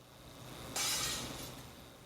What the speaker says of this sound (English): The sodium-based glass shatters completely.